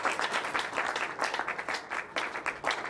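A church congregation applauds in a lively burst, with many hands clapping in dense, uneven waves that keep going at a steady, fairly loud level.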